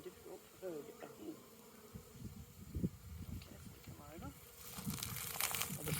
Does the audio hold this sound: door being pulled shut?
no